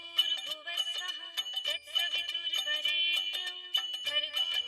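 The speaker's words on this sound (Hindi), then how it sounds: "जेठालाल के घर से फोन" An electronic phone ringtone plays a bright, repeating melodic pattern, steady and fairly close, with no voices over it.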